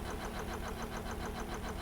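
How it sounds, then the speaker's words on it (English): An air compressor running aboard a research vessel in the Stormworks game, a steady rapid mechanical chugging with even pulses about twelve times a second over a constant hum, close and continuous, with no talking. "You'll hear the compressor turn on"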